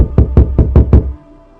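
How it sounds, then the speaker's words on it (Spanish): A bathroom door takes five quick, evenly spaced knocks, loud and close, and then goes silent. "Toca la puerta del baño"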